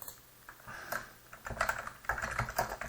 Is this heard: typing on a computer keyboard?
yes